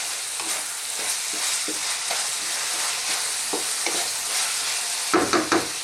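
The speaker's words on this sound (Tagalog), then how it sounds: "So, haluin lang natin siya." Malunggay leaves being stirred in a pan of sautéed papaya, a steady sizzle broken by soft scraping stirs and a brief clatter of utensils near the end.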